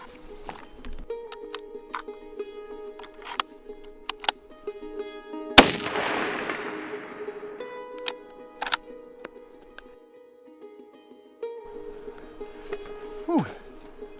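Rifle shots fired at a target on a shooting range: one loud, sharp report with a long decaying echo, plus several lighter clicks and handling noises over a steady hum.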